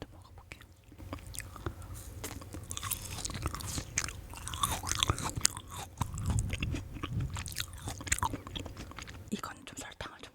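Frozen kohakutou jelly and Haribo gummies are chewed and bitten close to the mic, giving soft crunches and wet munching with crisp clicks, under quiet whispered talk.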